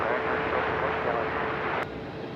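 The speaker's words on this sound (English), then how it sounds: "Jetstar flight just coming off the main runway there from in from Cairns." A Jetstar airliner in from Cairns rolls off the main runway at Melbourne Airport, a steady broadband jet roar that drops slightly near the end, with a voice speaking over it.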